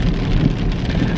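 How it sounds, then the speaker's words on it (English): Steady rain pours down over an outdoor lake, a dense continuous hiss of drops with no voices, loud and close throughout the short stretch. "You guys hear the rain, it's so pretty"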